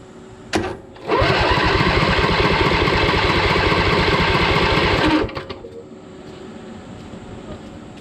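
Briggs & Stratton 20HP Intek V-twin engine on a Craftsman LT2000 lawn tractor cranking over with a rapid, even starter chug for about four seconds after a brief click, then stopping, with faint room noise left behind.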